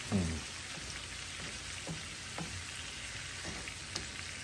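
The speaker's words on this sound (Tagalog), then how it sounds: "nagluluto siya ng hipon. Luto sa butter" Shrimp fry in butter in a pan, a steady soft sizzle and crackle running throughout with a few faint clinks of stirring close by.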